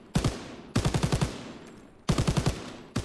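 Short bursts of machine gun fire in Call of Duty WWII, four separate volleys of rapid, sharp shots, each a quick string of about five rounds with brief pauses between, loud and close.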